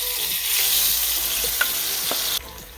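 Akara batter frying in very hot oil gives a loud, continuous crackling sizzle with a few sharp pops, then drops abruptly quieter near the end.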